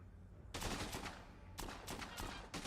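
Gunfire in the zombie video game Dead Rising 2, loud rapid bursts of shots starting abruptly, pausing briefly, then resuming in several sharp volleys close up.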